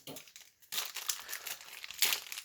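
Nerf N-Strike Microshots cardboard box packaging torn open by hand, close crinkling and ripping in bursts, one surge after a short pause and another sharp rip near the end, with no talking.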